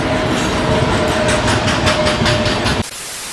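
Hyderabad Chennai Express passenger train rushing past a station platform at speed, a loud continuous roar of wheels with steady rhythmic clatter over rail joints, cutting off abruptly near the end.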